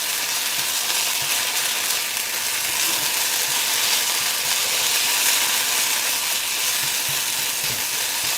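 A vegan omelet made from yellow mung beans fries in a pan with a steady, close, even sizzle and crackle that continues unbroken throughout.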